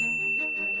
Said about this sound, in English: One day, Pavlov rang a bell just before feeding time.